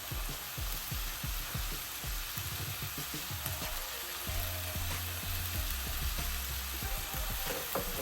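Mutton and spinach sizzle in a pot with the lid partly closed, giving a soft, steady frying crackle with scattered pops and bubbling thumps. A low hum runs underneath for the whole stretch.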